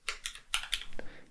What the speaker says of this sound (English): start typing my function